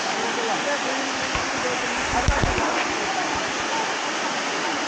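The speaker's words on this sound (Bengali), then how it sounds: "ওই উপর থেকে জল আসছে।" A waterfall near Shillong in Meghalaya: water pouring from above in a loud, steady roar, close by, with a few low thumps partway through.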